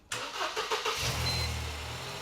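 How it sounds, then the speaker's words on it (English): A Mercedes SLK's engine cranks briefly and catches, then settles into a steady low idle rumble, close and clear with no talk over it. "Would you mind jumping in and starting the car up for me"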